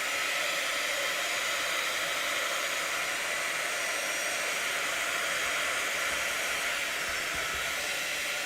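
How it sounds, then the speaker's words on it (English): A heat gun blasts continuously to dry a card-making craft project, giving a loud, steady, unbroken rush of hot air close to the microphone for the whole stretch. "So I'm going to blast this with my heat gun."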